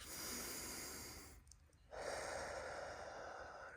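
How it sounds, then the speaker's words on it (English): A single deep breath in a quiet setting: a long, steady breathy rush, a brief pause, then a fuller sustained exhale, close and alone with no talking. "Take a deep breath."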